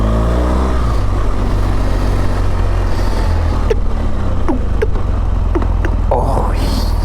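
A 1979 Kawasaki KZ650SR motorcycle engine runs steadily on its center stand, rising and falling in pitch as it revs through gear shifts, loud and close throughout with some faint background noise.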